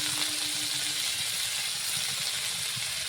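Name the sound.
vegetables frying in oil in a pan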